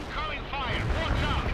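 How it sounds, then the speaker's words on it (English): Incoming artillery fire in the real-time strategy game World in Conflict, heavy rumbling booms and whistling shells under battlefield radio voices. "Incoming fire. Watch out."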